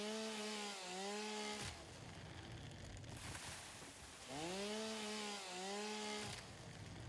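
A chainsaw in the video game Satisfactory cuts wood in two long revving bursts, each pitch swooping up and down, separated by a quieter stretch of grinding noise, fairly faint overall.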